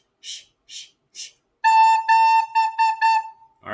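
A recorder plays a clear, steady note A, first as three short breathy taps, then as a string of longer sustained tones with small gaps between them, close and fairly loud, in a beginner music lesson for the song "Hot Cross Buns".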